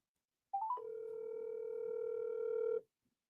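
A phone call on speakerphone sounds one long steady electronic tone, lasting about two seconds, after a brief wavering start, then cuts off into quiet.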